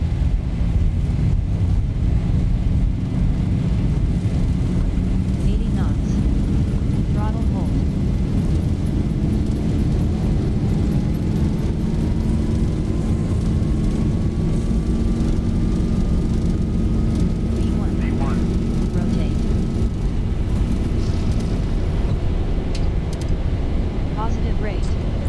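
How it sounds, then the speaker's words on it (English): Boeing 737 jet engines at takeoff thrust in the Zibo mod flight simulator: a steady, loud roar and rumble throughout, with a faint rising whine and occasional short clicks in the background. "Takeoff thrust set."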